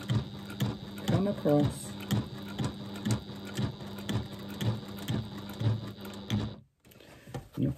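A sewing machine stitching slowly along the center seam of a zippered pouch: a steady, rhythmic mechanical clatter close by, a voice talking over it, and a brief stop just before the end.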